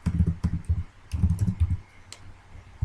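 Bursts of typing on a computer keyboard, close and fairly loud, with clustered keystroke runs separated by short pauses while a folder name is entered.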